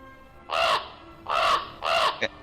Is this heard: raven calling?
yes